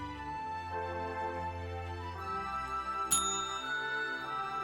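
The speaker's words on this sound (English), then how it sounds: "That's the bell to ring to get assistance." A bright bell ding rings once in the middle of a video-game scene in Nine Noir Lives, a service bell struck for assistance, ringing out over steady tonal background music.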